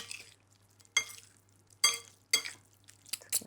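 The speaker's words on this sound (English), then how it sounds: "Grab a spoon and a fork, and we'll just toss everything together" Spoon and fork tossing a warm salad of confit duck and lentils in a bowl, several soft clinks and scraping rustles in an irregular rhythm, close by and with no talk.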